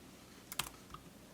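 A few quick key presses on a computer keyboard during video editing, two or three close clicks in quick succession, then a softer tap, over quiet room tone.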